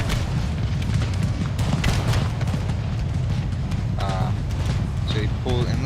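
Artillery firing in a multiplayer American Civil War mod battle of Empire: Total War, dense booming reports and rumbling battle noise throughout, with faint high calls and bugle-like tones near the end.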